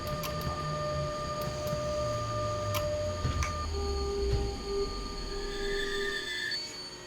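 Train brakes squealing in SimRail as an E186 locomotive slows, sustained high metallic tones shifting in pitch over a low rumble, with sharp clicks and ticks scattered throughout and no talk.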